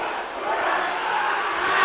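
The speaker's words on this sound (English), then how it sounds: "Dell's student section cheering it up." A student section roars and cheers without pause at a girls' varsity volleyball game against Dell Rapids. The steady crowd noise fills the space, and no one speaks over it.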